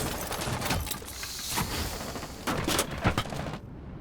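Gunfire from the Rainbow Six Siege video game comes in dense, loud volleys of overlapping shots that crack on for several seconds, then cut off abruptly.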